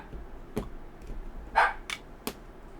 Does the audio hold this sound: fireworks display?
no